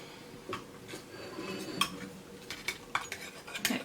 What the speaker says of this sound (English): here I will cut out a slice so you can see what it looks like